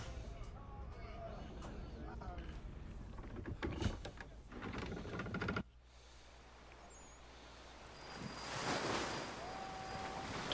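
Ocean waves at sea on the Atlantic in the video game Assassin's Creed 3, a low, steady wash with wind, softer after a sudden shift midway, then a swelling surge near the end; voices talk over it.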